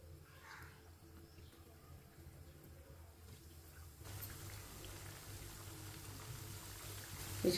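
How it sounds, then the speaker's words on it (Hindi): Chicken tikkis sizzle in hot oil over a medium flame. A steady, quiet frying hiss swells louder partway through as more patties go into the pan, with no talking. "ऑयल हमारा अच्छी तरह गर्म हो चुका है। अब एक एक टिक्की डाल लेंगे।"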